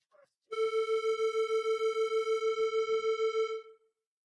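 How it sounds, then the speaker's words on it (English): A single sustained metallic gamelan tone, the note A, rings for about three seconds with a fast, pulsing shimmer before fading out. "Gamelan A sounds like this."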